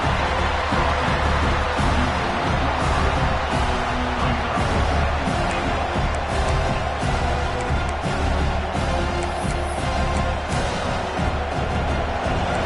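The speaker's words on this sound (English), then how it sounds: "And here comes the noise. This crowd is trying to inspire this defense" A dense, steady roar of a large college football stadium crowd fills the space, loud and continuous, with cheering swelling throughout and no clear pauses.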